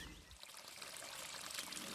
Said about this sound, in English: The tranquil, soothing, natural sound of flowing water